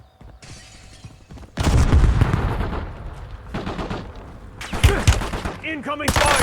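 Gunfire in Call of Duty Warzone: after a quiet start, loud rapid bursts of automatic weapon fire break out and continue in clattering volleys, with a voice shouting over the shooting near the end.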